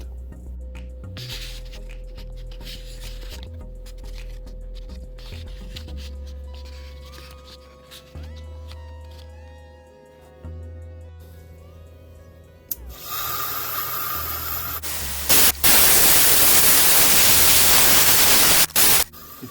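A sea shell being cut apart with a rotary tool, a steady close grinding whine that builds into loud, harsh hissing bursts near the end.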